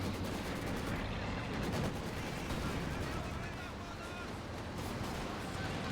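Dense rumbling barrage of Katyusha rocket artillery in a strategy game, continuous booms and crackling blasts layered together throughout, with a commentator talking over the din.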